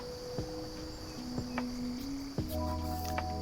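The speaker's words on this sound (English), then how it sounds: "You guys hear that like buzzing sound?" Bugs buzz and chirp in a VR fishing game, a steady insect drone like crickets that runs throughout among faint game tones and short swooshes.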